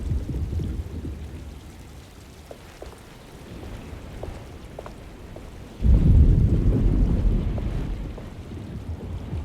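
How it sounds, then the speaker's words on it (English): A rainstorm with rumbling thunder in the horror game Alone in the Dark, a steady wash of rain under low rolling thunder that swells loudly about two-thirds of the way through, with no voices. "Just keeping an eye out for the storm."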